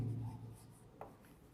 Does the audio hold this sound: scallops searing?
no